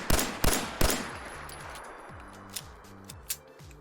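A 1911 pistol in Fallout 4 fires three loud, evenly spaced shots with stock game sounds, each crack followed by a ringing tail, then fainter clicks and softer reports as the echoes fade.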